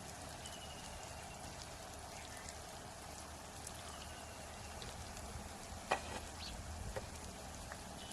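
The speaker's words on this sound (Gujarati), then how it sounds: "તો આપણે પૌવા ધોઈ નાખીએ." Flattened rice (poha) washed in water for a village-style potato poha breakfast, a steady soft patter and trickle of water throughout, with one brief louder splash near the end and no talk.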